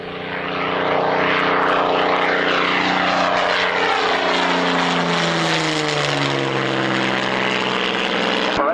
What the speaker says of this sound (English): Sensible overshoot there for one of the Mark 9s.